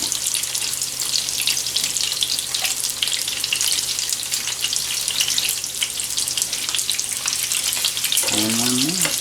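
Sausage fries in a skillet with a dense, steady sizzle and crackle of spitting fat, loud and close throughout, with a brief voice near the end.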